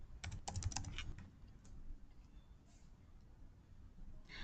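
Quick clatter of keystrokes on a computer keyboard, a dense burst of close taps at first, then sparser faint clicks over a low room hiss.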